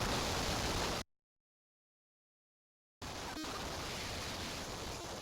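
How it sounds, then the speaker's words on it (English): Harsh, ear-piercing static from a FNAF-style horror game roars loudly, cuts out abruptly for about two seconds of silence, then bursts back at full strength with a brief crackle. "Accompanying this is the most ear-piercing static you will ever hear in your entire life."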